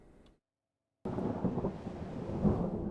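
A thunderstorm at sea in the naval game Ultimate Admiral Dreadnoughts cuts out briefly, then returns as a dense low rumble of thunder and rain, steady and moderately loud with no voices.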